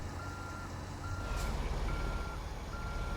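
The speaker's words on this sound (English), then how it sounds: "Watch as I back this up." Truck reversing beeps in American Truck Simulator, a steady repeating electronic beep over a continuous low engine rumble while the truck backs up.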